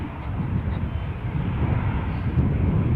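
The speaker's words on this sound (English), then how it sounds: "The plane we're looking at is the Alicante bound Ryanair" A Ryanair passenger jet bound for Alicante at Newcastle airport gives off a steady, loud broadband engine roar that holds constant throughout, with no talking.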